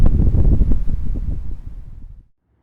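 Strong wind buffets the microphone outdoors beside a dumpster at a building project, loud low rumbling gusts that fade out abruptly after about two seconds.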